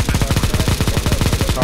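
Rapid automatic gunfire from Counter-Strike: Global Offensive, a steady stream of close, loud shots in a fast, even rhythm that runs throughout.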